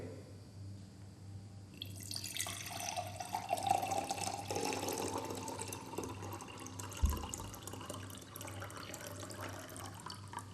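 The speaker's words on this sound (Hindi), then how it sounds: "देखिए दोबारा हमने फिर इस मग से इस पानी को उड़ेला है फ्लास्क में" Water is poured from a mug into a laboratory flask, a steady trickling splash of liquid running for several seconds at close range with a brief knock partway through, and no talking over it.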